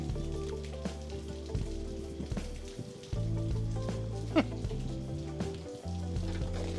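A Juicy Lucy cheeseburger sizzles over an open fire, a steady close crackle and hiss that runs the whole stretch, with one sharp pop partway through.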